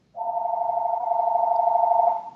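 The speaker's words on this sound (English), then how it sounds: "And there's a little phone ringing in the background." A small telephone rings steadily in the background, one continuous electronic tone running unbroken for about two seconds at moderate level, with no talk over it.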